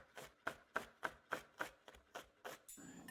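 Sweet shallots being chopped with a sharp knife on a board, about ten soft rhythmic strokes at an even pace, close and quiet with no talking.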